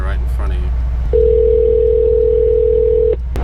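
A phone on speaker in a car on the way to get a Mercedes tuned gives a steady sustained ringing tone lasting about two seconds over a loud constant road and engine rumble, with a brief voice just before the tone.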